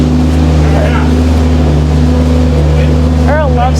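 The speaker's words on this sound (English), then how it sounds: "They all do react differently to the skid steer going by" A skid steer drives past on a farm, its steady engine drone loud and close throughout, with a higher-pitched whine or squeal rising briefly near the end.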